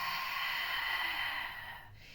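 A single long, forceful exhalation through the mouth during Pilates breathing while the belly is tightened, close and steady for about two seconds before trailing off.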